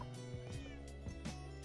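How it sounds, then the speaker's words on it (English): Several short meows from a cat in the Minecraft world of the Edge SMP, three or four separate game cries in a row over quiet background. "There's a kitty."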